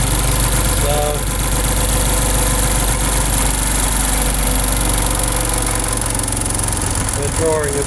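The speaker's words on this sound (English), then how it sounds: "I can just put a little bit more load on the motor." A three-phase electric motor runs under added load on a test bench, giving a steady loud hum and drone with constant vibration throughout, while a person talks over it.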